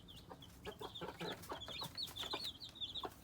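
Hens with eleven chicks clucking close by, a run of soft repeated clucks mixed with high chick peeps and cheeps, steady and busy throughout with no talk.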